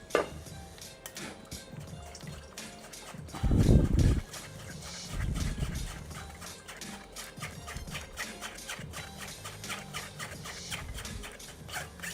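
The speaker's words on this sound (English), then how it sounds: "So I'm going to strain out this water from the tomato seeds" Water from chopped tomato seeds strained off, with a short burst of pouring liquid and then a softer trickle and drips, close by, with small handling noises around it.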